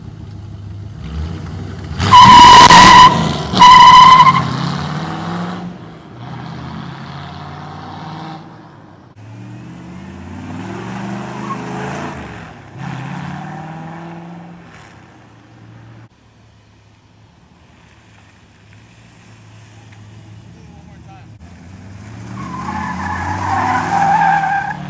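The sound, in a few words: Ford Foxbody Mustang peeling off, tires skidding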